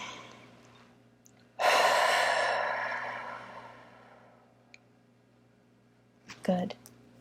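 A single long, deep breath drawn close to the mic while holding the wrist points during an EFT tapping session, swelling loudly and fading slowly, followed by a brief soft rustle near the end.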